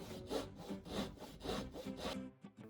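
A pole saw cutting wood in a cramped space under a layout just inches from drywall, giving about five quiet, rhythmic back-and-forth rasping strokes close by before stopping.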